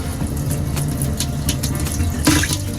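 Water pours steadily from a van's kitchen tap over vegetables being rinsed, a continuous close splashing rush with a brief louder gush near the end.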